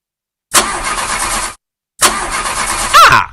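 A car engine cranking in a radio advert, two loud bursts of starter grinding separated by a short silence, the second ending in a sputter that fails to catch, close and without talk.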